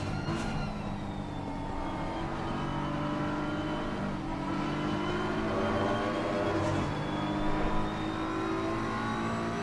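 Race cars circuit racing at Oulton Park roar past in a continuous wash of engine drone, rising and falling in pitch as they accelerate by, loud and fairly near with no voices.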